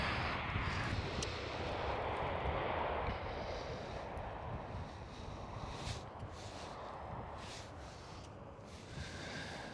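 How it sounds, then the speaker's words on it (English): A KLM Boeing 787 spooling up its engines during pushback at Amsterdam Schiphol, a steady broadband jet roar with a rising whine, heard at a distance and continuous throughout. "KLM 787 being pushed back, starting up the engines over there"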